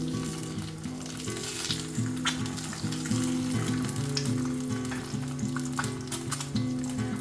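Half-fried eggs sizzling in plenty of oil on a tawa, a steady, dense crackling hiss that runs throughout, close and fairly loud, with no talking.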